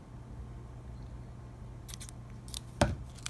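Excess shrink tubing snipped off with scissors: a few quick crisp cuts near the end, close and fairly quiet over a steady low room hum.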